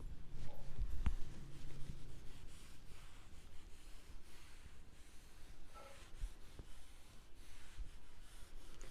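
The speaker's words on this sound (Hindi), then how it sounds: "तो चलो अब मैं इसको मिटाने वाली हूँ" A board being wiped clean in a bookkeeping and accountancy class, with steady, quiet rubbing and scraping strokes continuing for several seconds, close by and without talk.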